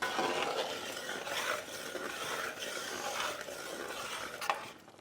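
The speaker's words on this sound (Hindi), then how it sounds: "बीच बीच में हम चलाना ना भूलें।" Chicken is stirred through a tomato gravy in a pan: continuous soft scraping and wet churning strokes over a low simmering sizzle, close and moderately quiet, with no talking.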